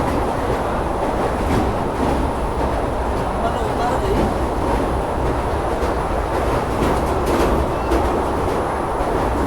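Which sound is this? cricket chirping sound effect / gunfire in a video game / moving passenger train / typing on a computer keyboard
moving passenger train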